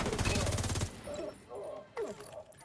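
Rapid burst of video-game gunfire in a PvE shooter, dense and loud for under a second, followed by quieter clicks and softer game effects with a voice talking over them.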